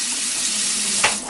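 Papanasi donuts fry in hot oil with a dense, continuous crackling sizzle, loud and close, broken by one brief splashy flare near the end.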